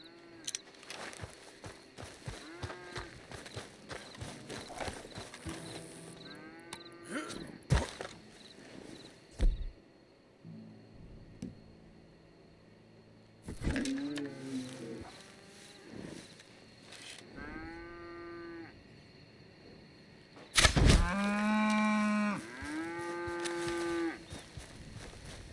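Cattle in the Red Dead Redemption 2 video game moo repeatedly, with several drawn-out, tonal calls spread across the stretch. They are clear and fairly close, and the loudest burst comes near the end, with faint footsteps and ambient noise in between.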